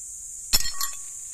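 Old cabinet glass shards and broken dishes clink together in one short, bright rattle with a brief tail, close by and alone, with no talk over it.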